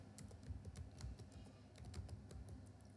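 Rapid, uneven clatter of keys on a computer keyboard as HTML code is typed, close and steady with no voices, over faint low background hum.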